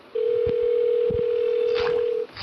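A steady telephone dial tone plays inside the Roblox video game after a number is dialed. It holds loud and unbroken for about two seconds, with faint clicks and a little background noise.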